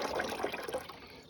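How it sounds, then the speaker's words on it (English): Sugar water, a little over two quarts, pours into a beehive feeder, a soft, steady trickling splash that stays quiet and close throughout. "Oh, we're just gonna put some in here. Sugar water, that's a little over 2 quarts"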